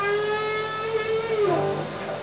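A single sustained guitar note is bent upward to G sharp, rising smoothly in pitch partway through and ringing on clearly by itself.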